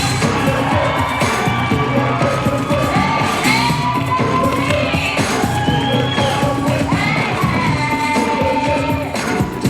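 Bodybuilding audience at the 1992 Arnold Classic screaming, whooping and cheering steadily, a dense loud crowd roar with individual yells rising above it throughout.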